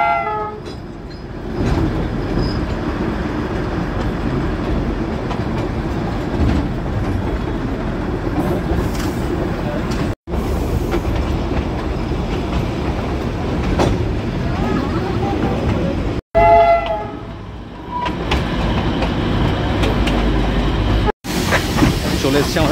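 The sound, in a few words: Darjeeling toy train running on the Batasia Loop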